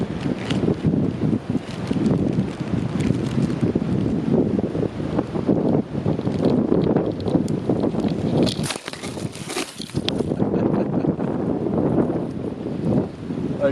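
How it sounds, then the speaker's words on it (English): Strong wind buffets a microphone outdoors on a backpacking trip in Shenandoah, a loud, continuous rumbling roar with gusts that briefly drop near the end before surging again. "I knew it was a matter of time with the wind"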